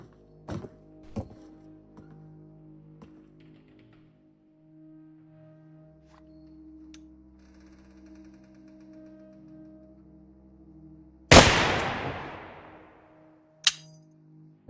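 Gunfire in Warhammer 40,000: Darktide, with a few light clicks and clanks followed by one loud, sharp shot that decays into a long tail, then a second short crack near the end, suggesting a weapon that jams between shots.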